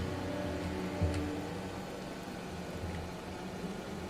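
A vehicle in the post-apocalyptic game Rage drives with a steady engine drone and a rumbling hum under faint ticking, plus a soft bump partway through.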